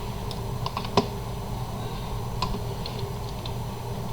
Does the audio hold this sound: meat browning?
no